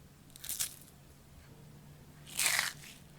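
Crispy Kerala-style onion pakoda crunches in two bites, a short crackle early and a louder, longer crunch near the end, close up over quiet room hum with no talking.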